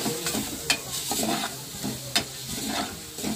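Chicken curry with green chillies being stirred in a pan, a spoon scraping and clacking against the metal in repeated strokes over a steady low sizzle, close and fairly loud, with no talking.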